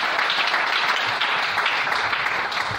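A church congregation breaks into sustained applause to acclaim the Lord, a dense, even wash of many hands clapping for the whole stretch, loud and close with no pauses.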